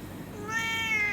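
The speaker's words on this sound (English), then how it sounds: "This is Kiwi Cat, and he's quite vocal" Kiwi, a talkative house cat, lets out one drawn-out meow close by, rising and holding clearly with no talk around it.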